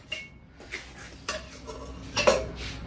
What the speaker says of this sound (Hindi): पहले दूध ढक दूँ।